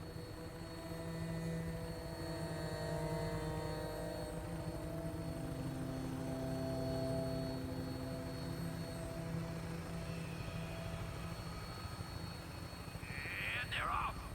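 Rotor aircraft taking off in Fallout 4, a steady low droning engine and rotor hum sustained throughout, moderately loud and unchanging, with a brief higher whoosh near the end.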